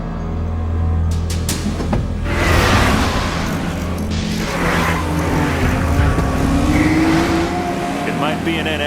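A Honda F20 type engine with VTEC drones and climbs in pitch during a street race, holding a steady, close roar with a rising whine partway through, while voices talk over it.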